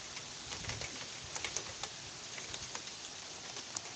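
Light rain falls around a town street, a quiet, even patter with scattered soft drips and taps, faint and distant, with no voices.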